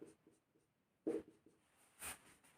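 Pen or chalk strokes of handwriting, a few short scratchy bursts spaced irregularly with faint pauses between, close and quiet.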